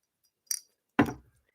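Two glasses clink together in a toast, a light high ring followed by a fuller, louder clink that rings out briefly, both heard alone with no talking.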